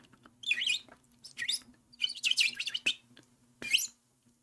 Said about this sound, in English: Bird.